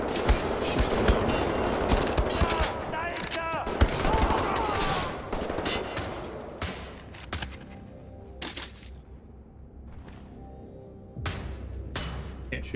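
Gunfire in the video game Wolfenstein: The New Order: dense, rapid bursts of shots crowd the first half, then thin into scattered sharp reports with brief lulls between them.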